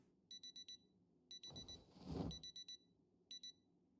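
Alarm clock beeping inside a house in Project Zomboid, sounding in rapid groups of four electronic beeps repeated several times, with a brief rustling clatter between groups and no talk.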